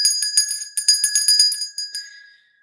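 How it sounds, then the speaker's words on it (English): Dinner bell rung rapidly, a bright metallic clanging in a quick run of about a dozen strikes, then a final hit left to ring out and fade. "there's a dinner bell"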